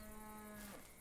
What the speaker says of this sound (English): those cows are super, super loud today